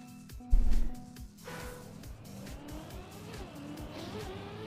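A race car in the Trackmania video game revs hard and screeches its tires as it sets off, with a thump near the start and then a steady engine drone as it keeps driving.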